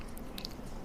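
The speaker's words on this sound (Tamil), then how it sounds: "ஆப்பிள் ஏதாவது கடிச்சு பார்த்தீங்களா?" A single bite into a hard apple, giving a brief, close crunch with a sharp crisp snap in the middle, quiet and without talking.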